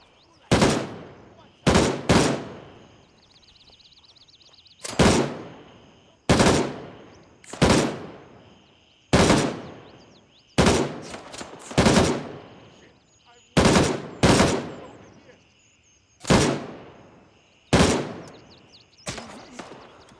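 AK rifle fire in the Gray Zone Warfare game comes as about a dozen loud, sharp gunshot bursts, some single and some doubled, each with a decaying echo tail, spaced irregularly across the stretch.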